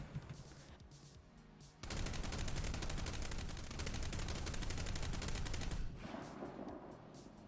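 The Dardo IFV autocannon in War Thunder fires one long sustained burst at a high rate of fire, loud rapid reports running for about four seconds before cutting off to quieter rumble.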